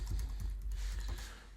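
A password being typed on a computer keyboard, a quick run of soft, close key taps in an uneven rhythm over a low hum, with no talking.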